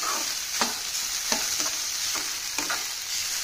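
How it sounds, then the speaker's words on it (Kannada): Bitter gourd fries in a pan with a continuous sizzling hiss, broken by several sharp scraping stirs at uneven intervals, close up and with no voices. "ಇದನ್ನ ಸ್ವಲ್ಪ ಫ್ರೈ ಮಾಡ್ಕೊಳ್ವಾ."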